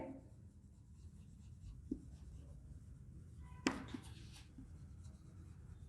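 Faint, quiet scratching of writing on a board during a classroom biology lecture, with one or two slightly sharper taps of the writing tool partway through.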